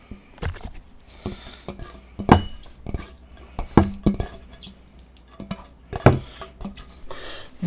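Cucumber kimchi is spooned into a Tupperware dish, with close, irregular wet clinks, scrapes and soft sloshing taps of the utensil against the container.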